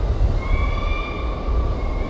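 A video-game train waits at an industrial city station, with a loud low rumble and steady mechanical hum carrying faint tonal whines on top, continuous and close without talk.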